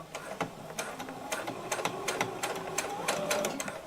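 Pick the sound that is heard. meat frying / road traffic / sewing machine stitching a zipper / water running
sewing machine stitching a zipper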